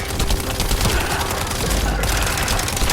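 Rapid hip-fire gunfire from The First Descendant video game, a dense, continuous burst of shots running throughout at steady loudness.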